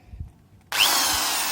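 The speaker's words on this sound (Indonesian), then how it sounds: "Sedangkan untuk alatnya saya akan coba ini ya, bor yang lama, hammer drill." An old hammer drill used for gypsum board work kicks on abruptly after a quiet moment and runs as a loud, close, steady whine.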